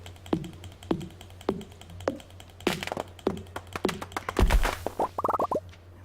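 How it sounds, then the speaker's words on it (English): Axe chops on trees in Stardew Valley ring out as a steady series of sharp, evenly spaced thunks, closing with a quick burst of crackling impacts. "Let's go up here and cut a few more trees."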